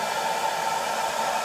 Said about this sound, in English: But I do like the assistance of the blow dryer, so it takes the tackiness out.